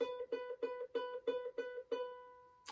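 One ukulele A string fretted at the second fret, plucked repeatedly, seven quick even notes, the final one ringing and fading; soft, close, with no voices.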